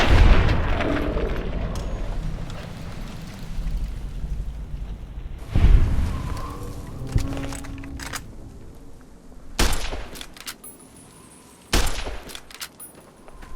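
Gunfire from in-game weapons in Fallout: New Vegas, heavy bursts and booms with a loud blast near 5.5 seconds and sharp reports around 9.5 and 11.8 seconds over continuous low rumble, no talk.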